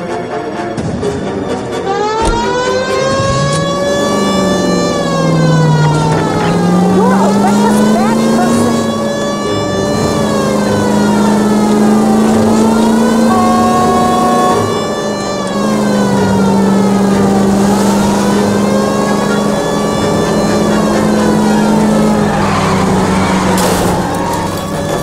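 A car driven in L.A. Noire, its engine rising and falling in pitch through repeated gear changes and revs, loud and continuous, with speech-like activity over it.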